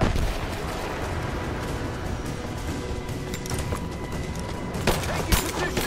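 Continuous battle gunfire fills a firefight in the Rise of the Tomb Raider video game, with dense overlapping shots and rumble under shouted commands, swelling near the end.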